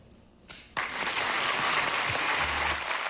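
A crowd of employees breaks into applause for their boss at a 30th anniversary celebration, starting after a short pause and swelling into sustained, dense clapping that holds steady, fairly loud and close.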